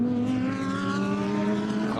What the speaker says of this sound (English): Cars all come through.